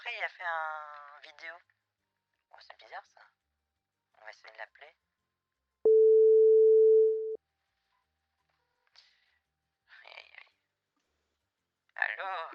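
A single steady electronic ringback tone sounds while a phone call waits for an answer, one sustained beep of about a second and a half set between bursts of nearby chatter.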